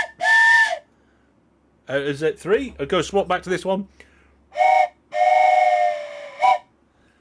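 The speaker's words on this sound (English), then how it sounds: "Laurel and Thomas both want a train whistle, so here's one for one of you" A steam train whistle sound effect blows in short, shrill bursts, one at the start and several near the end, with a person speaking between them.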